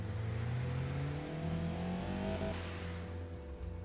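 A virtual car engine revs in the Automation car-design game, a tuned 1980s coupe whose smooth mid-pitched drone climbs steadily in pitch, then settles back down.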